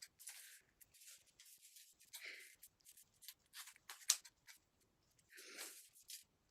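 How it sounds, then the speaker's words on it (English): Scissors snip through paper loops in short, quiet bursts of crisp cutting and rustling, separated by brief pauses, close up with no talking. "Okay, cutting all my loops."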